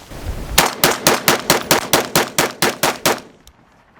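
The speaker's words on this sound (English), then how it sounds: "We'll finish this mag out unsuppressed, then we'll throw the suppressor on, see how it does suppressed." A Gen 3 BRN180 rifle fires unsuppressed with a compensator, about twelve loud, sharp, evenly spaced shots in a quick steady cadence, each with a short ringing tail, then silence.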